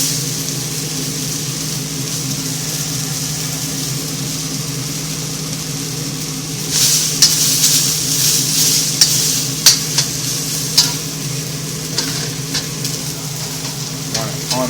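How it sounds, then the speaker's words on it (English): Oil crackles and sizzles in a wok being seasoned on an electric stove, a steady hiss that swells into louder popping and spitting bursts partway through, with no talk. "It's absorbing the oil, and the oil is actually burning."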